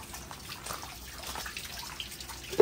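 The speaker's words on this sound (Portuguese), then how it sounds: "vou por água" Water poured onto a potted Phalaenopsis orchid, a soft trickling and splashing under low background noise, ending with a brief louder drip.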